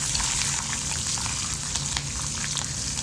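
Green chillies frying in hot oil for avalakki bath, a steady close crackling sizzle with dense popping, no voices.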